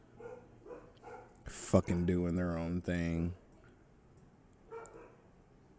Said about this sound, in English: It's fucking dogs barking now.